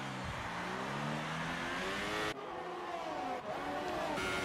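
A Formula 1 race car in the video game F1 2018 at Italy, its engine screaming loud and continuous, pitch rising and dropping through gear changes as it takes the opening corners.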